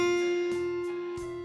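F note on the high E string of a guitar, fretted with the first finger, plucked several times in a steady pulse, each note ringing clean and close without speech.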